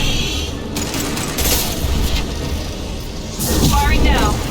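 Gunfire in the sci-fi shooter game Mass Effect 2 aboard the Collector ship, loud overlapping bursts of shots and booms layered with a processed game voice and whooshing effects.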